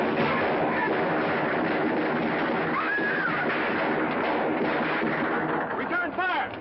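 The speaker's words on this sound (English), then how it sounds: "Return fire!" Gunfire from a 1954 film shootout: dense, continuous rattling shots and bursts fill the scene at full loudness, with voices calling out in the mix.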